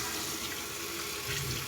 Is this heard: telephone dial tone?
no